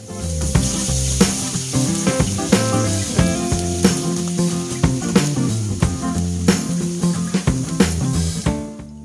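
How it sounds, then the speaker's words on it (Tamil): Fenugreek seeds, dried red chillies and crushed garlic fry loudly in hot oil, a dense crackling sizzle broken by frequent sharp pops and spatters in an irregular rhythm. "இப்போ இதெல்லாம் நல்லா பொரியட்டும்"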